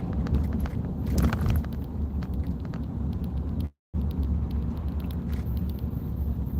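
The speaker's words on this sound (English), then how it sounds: "Stuck behind a bus." A bus crawling through a construction zone, heard from inside a car stuck behind it: a steady, loud low road-and-engine rumble with faint ticking on top, cut by one brief moment of silence partway through, and no voices.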